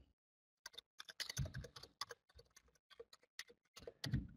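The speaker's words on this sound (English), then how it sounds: "I'm going to type that address into the general chat window" Someone types an email address on a computer keyboard in quick irregular bursts of close, crisp key clicks, quiet and with no talking.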